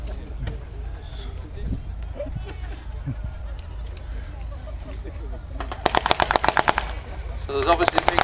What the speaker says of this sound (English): The German defences have opened fire on the British reconnaissance.